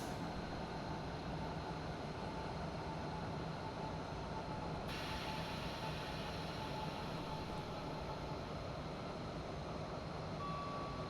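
Steady rumble of a regional train running on rails in a rail simulator, on the Pegnitztalbahn line from Neuhaus to Nürnberg Hbf, continuous and close with a faint high tone partway through, no voices.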